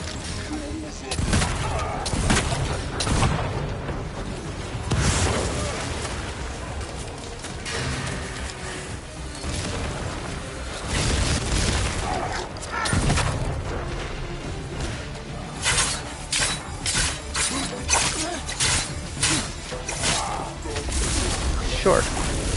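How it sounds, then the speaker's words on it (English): Gunfire in the video game Ghost of Yotei: repeated loud shots and crashing bursts scattered irregularly under a player's talking, with a game soundtrack running beneath. "I'm literally missing all my shots."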